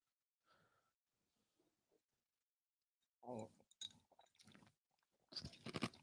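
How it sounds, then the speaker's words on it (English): Ice is chewed close up in several crunching bursts with short pauses between them, preceded by soft breathing in an otherwise quiet space. "Chewing ice."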